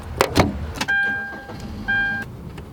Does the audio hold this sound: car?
yes